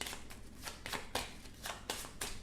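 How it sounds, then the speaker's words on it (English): A deck of cards being shuffled by hand, a rapid series of close riffling bursts in a steady rhythm, with no talking. "Let's shuffle this."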